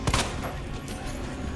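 Gunfire aimed at zombies in the Resident Evil 2 Remake video game, a quick loud burst of shots up front trailing into a dense rumbling game soundscape.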